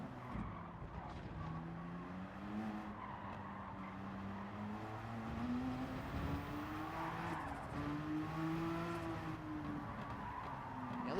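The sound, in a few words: race car nearly spinning out, Gran Turismo 7 video game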